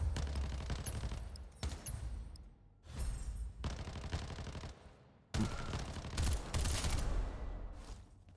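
Gunfire in the video game Lost Light comes in several sharp, loud bursts of rapid automatic shots, separated by short pauses.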